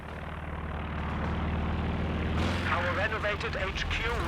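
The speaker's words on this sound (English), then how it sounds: "Recon plane coming in now for BBangYa." A recon plane flies in over the battlefield in Company of Heroes 2, its engine drone swelling steadily louder beneath booming artillery fire and a caster talking.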